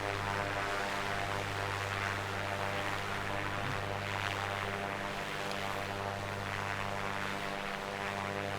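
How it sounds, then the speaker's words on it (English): Piper PA-24 Comanche 250 in flight in a flight simulator, a steady, droning propeller engine hum with constant tone throughout, evenly loud and unbroken. "Piper Commanche 250"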